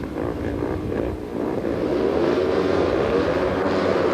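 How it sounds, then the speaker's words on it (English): Speedway motorcycles at King's Lynn roar away together from the tapes at the start of a heat, a loud, dense and sustained engine drone that swells slightly as they accelerate. "Up go the tapes, those engines roar"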